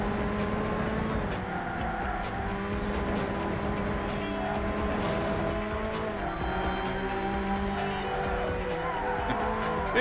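Yellow Roadster racing in the video game Burnout, a steady engine drone with tire squeal over continuous game music, loud and unbroken throughout.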